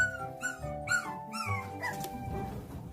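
A puppy whimpers and yips from indoors, left alone inside, in a series of thin, high, wavering cries over about three seconds, fairly close and with no talking over it.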